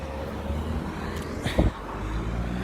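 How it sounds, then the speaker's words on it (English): A car passes along a town road in Sudbury, Suffolk, its engine rising to a close peak and then fading, over a steady background of roadway traffic rumble. "you have to be very aware that cars are coming through"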